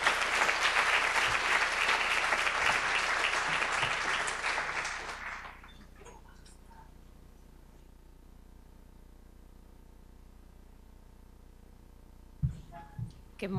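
Conference audience applauding a speaker's arrival on stage, loud sustained clapping that fades out after about five seconds into quiet room tone, then brief footsteps or handling noises.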